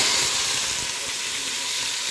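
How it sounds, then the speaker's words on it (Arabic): Rice frying in a little oil gives a steady, bright sizzle and hiss, close and continuous throughout with no voices. "انا حاطه الزيت كنحمر فيه بس شويه"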